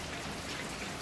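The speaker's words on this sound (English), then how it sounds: "I'm just sitting out here enjoying the rain." Steady rain falls outdoors at night in Oregon's Willamette Valley, a dense, even hiss of drops with no voices and no breaks.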